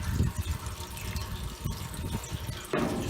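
Maple sap running through an opened valve into an evaporator, a steady close trickle and gurgle of liquid with a few small drips and a splashy swell near the end.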